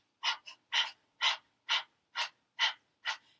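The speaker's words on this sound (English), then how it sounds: "take a deep breath in, and begin breath of fire" Breath of fire yoga breathing through the nose: seven quick, rhythmic nasal exhalations, evenly spaced about half a second apart, close and clear with silence between them.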